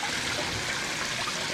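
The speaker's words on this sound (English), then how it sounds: "my custom made filter, draining out water, really nice, good flow" Steady stream of water draining from a homemade bucket filter into a bait tank, a close, continuous splashing trickle with good flow and no talk.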